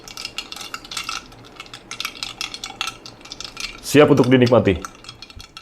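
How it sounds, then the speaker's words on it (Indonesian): A spoon clinks and stirs through brewed Japanese-style iced Aceh Gayo coffee, light repeated taps and scrapes against the glass at close range, followed by a short spoken phrase. "Jadi kita aduk begini biar merata nantinya hasil seduhan kita tadi."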